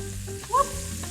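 Shrimp sizzle in a hot pan as they are flipped, a steady frying hiss with a brief scrape in the middle, close and alone.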